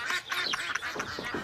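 Duck quacking in a rapid run of several nasal quacks, fairly close and loud, with no voices over it.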